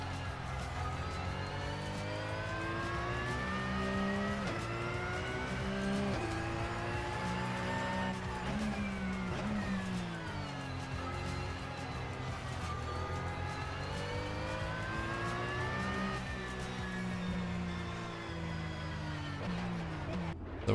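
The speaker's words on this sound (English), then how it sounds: "this time in the 2017 Porsche 911 RSR. The GT Le Mans class car" A 2017 Porsche 911 RSR GT Le Mans class race car at Le Mans gives a continuous, loud engine howl that climbs and falls through repeated gear changes and rev swings for about twenty seconds, heard alone.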